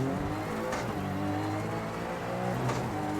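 Rally car engine in EA Sports WRC drones steadily and loudly with harmonic revs rising and falling, two brief bursts of gravel or tyre noise, no voices.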